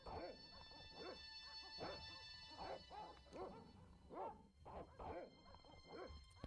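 Dogs bark in the Broken Sword adventure video game, a faint, steady run of repeated barks and yips at an even rhythm, heard in the distance.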